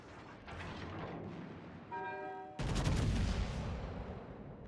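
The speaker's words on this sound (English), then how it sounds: "now the secondary batteries are shooting at the Fubuki" Ship secondary batteries firing in World of Warships, a rapid burst of gunfire thumps that swells into a loud, dense volley of booming shots near the end, with a brief horn-like tone just before the heaviest salvo.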